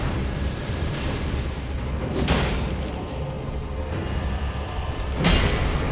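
Roaring fire attack from an enemy in Elden Ring, a dense rumbling blast that swells twice in heavy booming bursts over continuous low combat noise.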